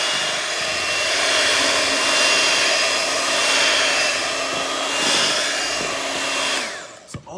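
An electric mixer blends chocolate pound cake batter, giving a steady, loud motor whir with a sustained tone that runs almost unbroken for several seconds and then stops abruptly.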